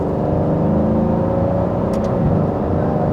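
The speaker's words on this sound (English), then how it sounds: "we couldn't say no to driving an Aston Martin around a current Formula One circuit, could we?" An Aston Martin circles the Hockenheimring Formula One circuit, its engine a steady, close, droning hum with a broad rumbling body that holds even throughout, with no talk over it.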